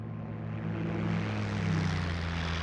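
The propeller engine of a P-51 Mustang in a flight game drones loud and steady with a deep, throbbing hum. The pitch rises slightly as the power swells, and wind noise sits over it, with no one talking.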